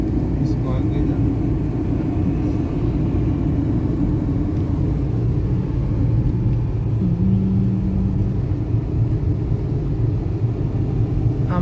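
A car cruising on a road and easing its speed, heard from inside as a steady low engine and tyre rumble throughout, with people talking over it.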